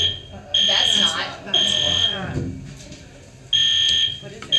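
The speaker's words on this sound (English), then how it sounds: "It is an actual fire alarm?" A fire alarm blares in bursts during a meeting, shrill beeps repeating at near-regular intervals, with people talking between and under them.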